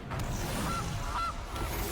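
A goose card being played in MTG Arena, the Magic: The Gathering digital card game, gives a short synthetic honk or two over a dense, steady bed of game music and ambience.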